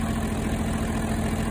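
A John Deere 4320 diesel tractor engine idles with a steady, even low rumble and constant mechanical hum, close and fairly loud, with no voices.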